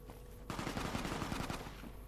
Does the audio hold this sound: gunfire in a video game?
yes